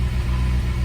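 Steady low idle of a Geo Tracker engine freshly started after a no-start problem, a close, even rumble holding constant with no voices.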